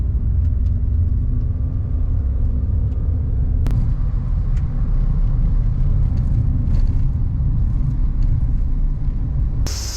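A car drives along a mountain road in Kyushu, Japan. A steady low engine rumble and road noise continue throughout, with a few faint clicks and knocks from inside the cabin.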